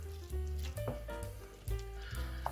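Minced meat going into a pan over a sizzling Bolognese base of fried onions, vegetables and tomato, producing a steady close sizzle and hiss, with a soft low rumble and a couple of louder surges as the meat is added.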